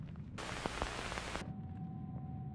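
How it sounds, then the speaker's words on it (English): Static distortion crackling over a comms feed in the video game Destiny 2, a loud burst of harsh white-noise hiss lasting about a second, set between quieter stretches of hum. "There's a distortion in the feed, no frequencies."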